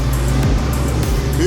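Engine of a tracked vehicle idling close by, a loud, steady low droning rumble with brief pitch dips and a rising whine at the end, with speech-like sounds present.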